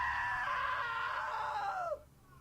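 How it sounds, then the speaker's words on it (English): A long, loud sustained scream from the video game What Remains of Edith Finch, holding steady before dropping off sharply into quiet. "Now that was a great scream"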